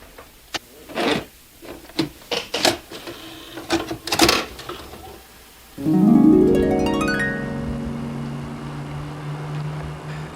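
A video tape is handled and clicked into a vintage playback machine with a series of sharp plastic knocks and clatters, then the deck's motor starts with a loud rising whir that settles into a steady mechanical hum.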